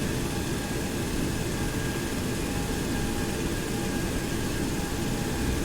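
Boeing 727 jet in the FlyJSim flight simulator taxiing on the ground: a steady, broadband engine roar and hiss, continuous and even in level throughout, with no voices.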